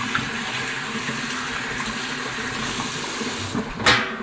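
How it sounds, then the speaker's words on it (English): Kitchen tap running into a sink during washing up after cooking a chicken stir fry, a steady close hiss of flowing water with a brief louder splash near the end. "Put that in the sink. And going to wash up here."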